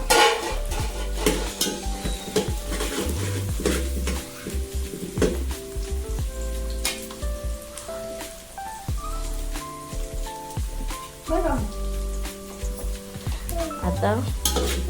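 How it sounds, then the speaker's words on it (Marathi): Curry leaves and a bay leaf hiss and crackle in hot oil in a pan over a village wood-fired stove, with steady close sizzling, stirring clatter and bursts of spattering throughout. "आता कढीपत्ता टाकायचा आहे आणि झाकण ठेवायचं आहे."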